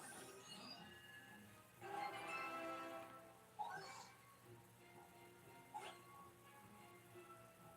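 A ghostly spectral dog in a video game gives faint, distant barks and whimpering yips in a few short bursts amid quiet background ambience, with speech also present.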